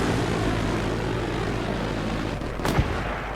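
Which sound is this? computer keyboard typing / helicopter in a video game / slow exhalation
helicopter in a video game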